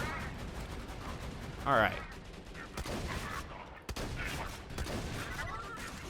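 Rapid turret gunfire from the video game Borderlands 2, sustained dense bursts of shots with a layered in-game battle din, while someone speaks briefly over it.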